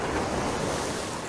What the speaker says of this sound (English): as you can see we are taking a few backwash splashes